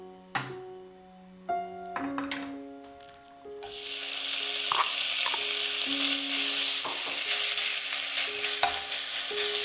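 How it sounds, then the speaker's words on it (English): Sliced beef drops into hot vegetable oil in a large pot, a few utensil taps and pings giving way to a loud, steady sizzle that runs on with faint stirring knocks, no voices. "Add the meat, then cook until it is no longer reddish in color"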